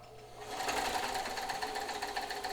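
A Janome 642 free arm sewing machine runs a long straight stitch, its motor starting up and settling into a steady, close whirring hum with rapid needle ticking.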